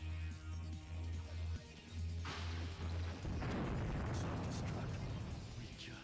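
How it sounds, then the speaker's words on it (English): An explosion in the video game Sonic Heroes, a loud rushing blast that swells in midway over a low droning hum and continues as a dense, roaring rumble to the end. "What an explosion!"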